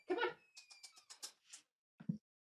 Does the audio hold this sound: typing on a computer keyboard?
no